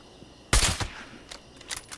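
A Quad Sniper Rifle fires in Fallout 76: one loud sharp shot with a decaying tail, followed by fainter distant shot-like cracks over the next second.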